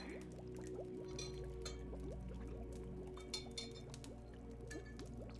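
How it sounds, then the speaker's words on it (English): Water poured into a glass or cup, a close, quiet trickling fill with small clinks, set against a soft steady background hum. "Okay, just gonna have some water."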